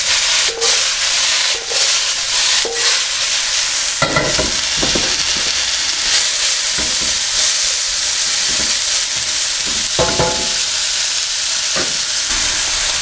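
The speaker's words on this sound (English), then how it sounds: "So I'm going to be frying this for about 3 or 4 minutes, just moving the vegetables around every so often" Vegetables for a chow mein stir-frying in a pan, giving a loud, steady sizzle throughout with occasional clatters and scrapes as they are moved around.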